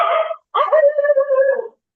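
A pet dog at home whimpers and yips in two close, high-pitched bursts, the second drawn out into a wavering whine, loud and near with no other sounds.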